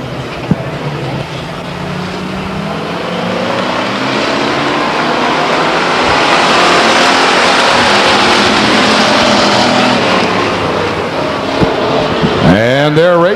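Race cars roar around the oval at Stockton 99 Speedway, a continuous loud engine drone rising and falling as the pack passes, with a crowd murmur beneath and a brief closer engine sweep near the end.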